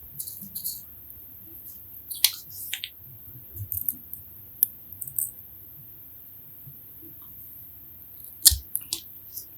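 Scissors snip through fishing rig material in a few quick, crisp, close-up cuts separated by quiet pauses.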